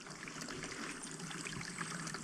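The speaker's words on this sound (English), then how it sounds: "Found a little water source, I think. Well, I can certainly hear water." Water trickling and splashing from a small mountain spring on an Alpine hiking trail, a steady close bubbling flow with no voices.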